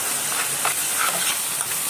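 A spoon stirs thick bessara, a dried fava bean purée, in a pot, giving a soft continuous scraping and bubbling hiss with faint irregular scrapes, no voices.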